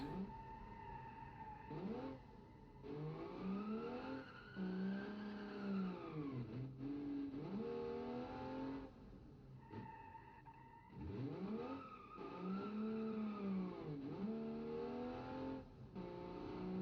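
Car engine in the BeamNG driving game, revving hard in repeated bursts that climb in pitch and then drop, with short gaps between the runs, loud and close with no voices.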